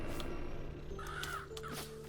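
Crows cawing in the video game Have a Nice Death, a couple of short harsh caws in quick succession over ambient game sound and music.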